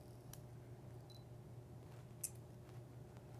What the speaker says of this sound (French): on a entendu que le déclencheur est juste parti une fois